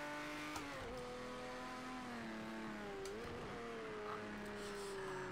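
Porsche 917K race car in Project CARS 2 on a straight, its engine holding a steady high drone that dips and climbs with gear changes, faint and alone with no talk.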